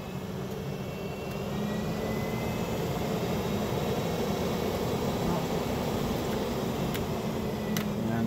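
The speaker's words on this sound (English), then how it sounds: "so with this fan, there's 3 speeds. Crank that up" A three-speed fan in a Bigfoot trailer's bathroom ceiling, running on high: a loud, steady whooshing roar of rushing air that holds unbroken throughout, close by.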